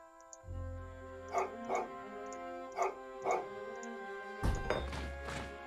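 A war dog in Age of Empires III gives a few short, sharp barks and yips in evenly spaced pairs. A dull thunk sounds near the end, over a steady hum of game background sound.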